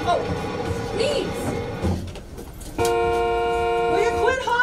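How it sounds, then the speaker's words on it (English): A car horn blares in a long, sustained honk over city street noise, loud and steady toward the end after a muffled stretch with a voice talking. "Will you quit honking that horn, you yo-yo?"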